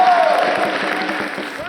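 A packed standing-room crowd at the Major League Championship Finals fills the arena with dense, loud cheering and applause, a continuous roar with a voice cutting through near the start.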